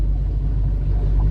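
Car driving through deep water on Ocracoke Island makes a loud, continuous low rumble and wash with no break, close up and without talk.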